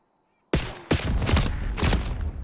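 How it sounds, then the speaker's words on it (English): Gunfire in the video game Black Ops 6, single shots tapped out at a player, several sharp loud reports in quick succession with short gaps, close and punchy. "I want you to tap me one bullet at a time and tell me how many bullets it takes to kill me"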